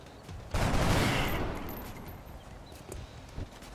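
A sudden burst of gunfire from the strategy game XCOM: The Long War cracks out loudly and then fades into a lingering rumble, with a faint shorter pop near the end.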